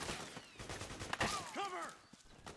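Bursts of gunfire from a Metal Gear Solid 4: Guns of the Patriots firefight: several sharp shots at close range, with a brief tonal cry or whistle in the middle.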